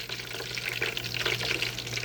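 Breaded pork tenderloin, cooked state-fair style, fries steadily in hot oil, giving a continuous crackling sizzle with small popping bursts throughout.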